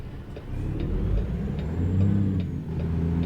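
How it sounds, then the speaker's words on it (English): A Cummins L10 diesel in a Kenworth K100E truck in American Truck Simulator pulling away from a stop, a steady low engine drone that dips and then swells as revs recover, with faint regular ticking above it. "moving off from rest, it looks like the engine revs drop to 500 RPM before they start to recover"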